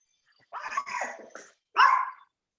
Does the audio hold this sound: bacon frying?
no